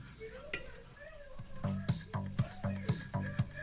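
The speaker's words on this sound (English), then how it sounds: "This is just basically oil and curry paste hanging out, doing what it does best." Oil and vegan yellow curry paste sizzle in a pan while being stirred, steady frying hiss with a run of rhythmic scraping strokes growing louder in the second half, close and alone.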